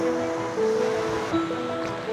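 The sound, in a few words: Talon Pari Falls waterfall, Bulacan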